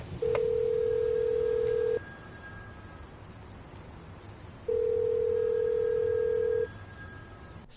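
Telephone tones as a number is dialed in the 2007 film No Country for Old Men: two long, loud, steady electronic tones, each lasting about two seconds, separated by a quiet pause over faint background hiss.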